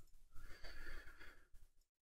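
Horses neighing in the Travian Legends video game, a loud, close whinny with breathy snorting texture lasting nearly two seconds before cutting off to silence.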